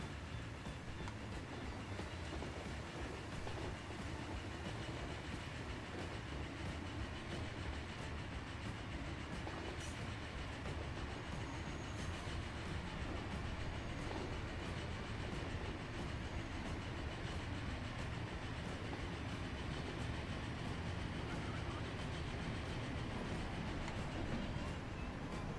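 A train in the game Transport Fever rumbles along its tracks in a steady, continuous drone with a faint rhythmic clatter throughout, and no talking.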